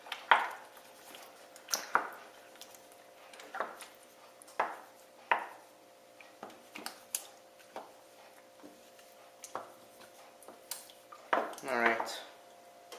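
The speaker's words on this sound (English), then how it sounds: "So I'm just going to break up these tomatoes here." Tomatoes are broken up in a cooking pan, making close, irregular squishes and wet pops with occasional sharp clinks of a utensil against the pan. The sounds are separated by quiet gaps.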